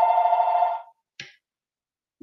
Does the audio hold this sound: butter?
no